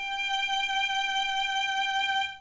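A single sustained violin G note bowed steadily for about two seconds, clean and close, with a strong even tone that fades at the end.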